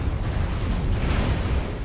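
Continuous heavy explosive rumble from an artillery strike in the mech combat game MechWarrior, dense low booming that fills the stretch without a break, loud and close, with no voices over it.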